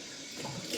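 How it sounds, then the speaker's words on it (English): Cold tap water runs steadily into a sink during a wet shave, a close, bright hiss that swells slightly toward the end, with no talking. "Cold water. Yes, cold water is in order."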